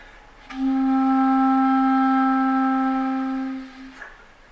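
A single sustained clarinet note D, steady and clear for about three seconds, played alone with no other sounds.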